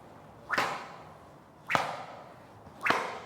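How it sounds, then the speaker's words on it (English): Three sharp swishing cracks about a second apart, each a sudden loud whoosh-snap that fades quickly, with near silence between them. "Now watch the whip. Listen to the sound."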